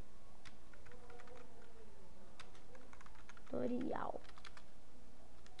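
Keys clatter on a computer keyboard in a quick, light, irregular run, close by and fairly faint, while a person speaks over part of it.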